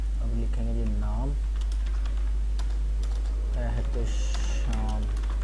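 Computer keyboard typing a shop name into CorelDRAW: soft rapid key clicks in short bursts between stretches of someone speaking, under a steady low hum.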